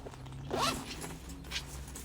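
A zipper runs along the inside pocket of a handmade sewn tote bag in one quick, close pull lasting about a quarter second. A fainter rustle of fabric follows it.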